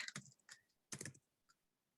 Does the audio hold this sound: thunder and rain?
no